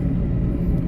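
Engine of a 1996 Geo Tracker running on a test drive after a clutch replacement, a dense low rumble that holds steady and close throughout.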